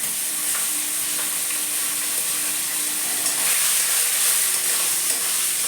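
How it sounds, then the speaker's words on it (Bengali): Sabudana frying in a pan with curry leaves tossed in gives a steady, close sizzle and hiss with light stirring, constant throughout and with no voices. "দেখো এর মধ্যে কটা কারি পাতাও দিয়ে দেবো"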